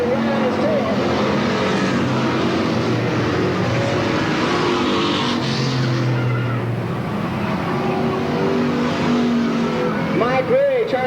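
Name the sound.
race cars battling on oval track at Sandusky Speedway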